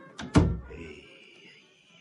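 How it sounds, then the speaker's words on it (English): A door is shut and locked in an old radio drama, giving two quick knocking thuds, the second a heavy thunk, then a faint lingering resonance. "She locked the door"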